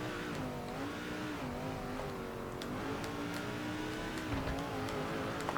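A NASCAR race truck engine from NASCAR 2005 holds a steady high drone with rising and falling pitch as it shifts and revs, loud and continuous, with no talking.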